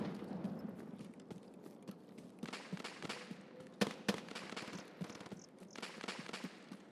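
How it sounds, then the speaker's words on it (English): Distant gunfire from the Sturman boss in Escape From Tarkov, a scatter of faint sharp pops and cracks in irregular clusters over a quiet background. "Pop, pop, pop. That's usually what Sturman shoots."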